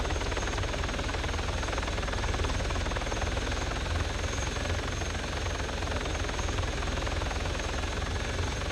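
A helicopter in a video game, a dense steady rotor and engine drone, loud and unbroken throughout with no voices over it.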